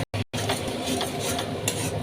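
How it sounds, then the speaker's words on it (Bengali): Spices and potatoes stirred in a pan for ghugni, a steady close scraping and sizzling that runs continuously after two brief pauses at the start, with no voices. "আমি এখন নাড়াটা দিয়ে নেব"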